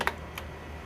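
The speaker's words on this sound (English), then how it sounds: "I'm going to hold down the Control and the Enter key on the keyboard" Two quick clicks of keys pressed on a computer keyboard, a Control and Enter combination, close by and crisp against a quiet room.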